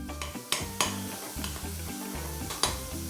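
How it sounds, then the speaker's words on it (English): Smoked bacon fries in rapeseed oil in a pan, a steady sizzle broken by sharp scraping and stirring knocks from a utensil, close up with no talk. "take a little bit of rapeseed oil in a pan and we're going to drop in some smoked bacon"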